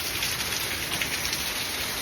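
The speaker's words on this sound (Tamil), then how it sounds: "செம்ம மழை பெய்யுது பாருங்களா" Heavy rain pours down in a dense, steady hiss, loud and close, with no voices over it.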